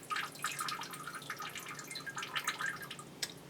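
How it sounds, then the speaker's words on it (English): Water pours into an orchid pot holding a rootless plant and drips through, a steady close trickle of fine splashes and drops with no talk. "then we pour our water into a pot that effectively has no roots"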